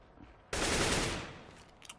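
Gunfire in CS:GO on the Dust 2 map during a pro match: a single loud burst of rapid automatic shots that cuts in abruptly and fades over roughly a second, with no talk.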